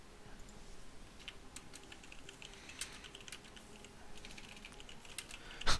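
Steady keyboard typing on a computer while playing MTG Arena, a run of light clicky keystrokes at moderate distance with a louder cluster of taps near the end, no speech.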